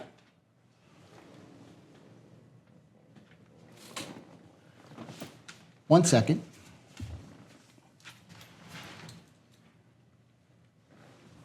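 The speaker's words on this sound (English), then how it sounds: "she heard a door open" A door opens with a sudden loud clattering burst and a dull knock just after it, set among intermittent nearby conversation and soft indoor handling noises.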